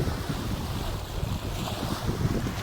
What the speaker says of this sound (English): walking along this beach in the middle of January, 82 degree weather, with the waves crashing against my toes